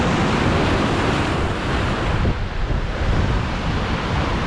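Ocean surf rolls and crashes steadily near an Australian winter fishing spot, a loud continuous wash of waves mixed with heavy wind buffeting the microphone, no voices present.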